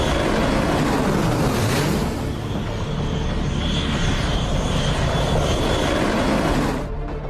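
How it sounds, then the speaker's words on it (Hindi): A B-2 stealth bomber passes overhead with a loud, steady jet roar and a thin whine, holding strong for several seconds before beginning to fade. "ये B-2 स्टिल्थ बॉम्बर, अमेरिका का विध्वंसक परमाणु हमलावर, ताइवान के आसमान में मंडरा रहा है"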